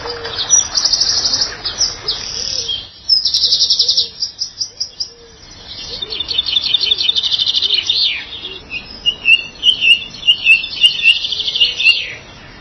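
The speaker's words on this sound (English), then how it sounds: "the sheer amount of bird song is just absolutely phenomenal" Dense bird song fills the Highgrove garden, with bright rapid chirps and trills coming in bursts from several birds, close and loud, with some buzzing insect-like calls and no talking.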